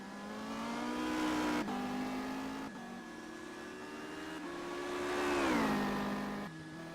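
A race car in a racing video game pulling into the pit lane, its engine droning steadily with a few gear-shift breaks, then the pitch rises and drops as it slows.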